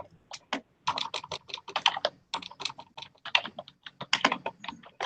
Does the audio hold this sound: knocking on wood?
no